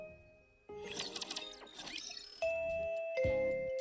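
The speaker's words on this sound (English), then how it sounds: "Bing bong, the school bell rings." Two-tone chime of a school bell in the video game Goddess of Victory: NIKKE, sounding twice at a steady volume over a bed of game background sound, with no one talking.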